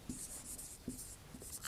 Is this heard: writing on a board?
yes